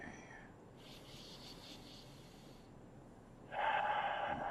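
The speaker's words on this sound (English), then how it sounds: "Breathe, inhale, exhale." Slow deep breathing during a self-massage pressing under the bone near the sinuses, a soft drawn-in inhale of airy hiss followed after a pause by a louder, fuller exhale close by.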